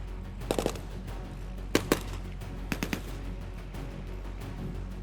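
Tank gunfire in a Gulf War battle re-enactment against a T-54: sharp bursts of shots in short clusters, a double crack and scattered single reports, fairly distant over a steady low rumble.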